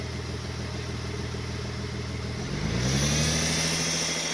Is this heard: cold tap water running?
no